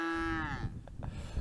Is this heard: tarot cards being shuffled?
no